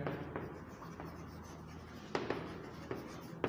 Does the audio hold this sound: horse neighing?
no